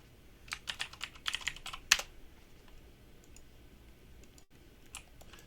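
Bursts of close computer keyboard typing as a short note is entered, a quick cluster of clicks early on, then a few scattered taps amid quiet.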